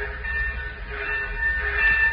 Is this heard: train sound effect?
yes